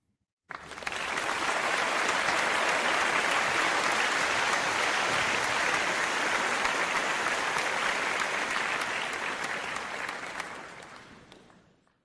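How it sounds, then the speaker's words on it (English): A burst of loud, sustained applause from a large crowd starts abruptly, holds at full strength for about ten seconds, then tapers off gradually to silence. "So, this guy definitely deserves applause."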